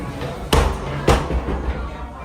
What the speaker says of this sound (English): The door is loud.